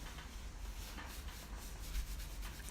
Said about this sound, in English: scraping and pulling the paint through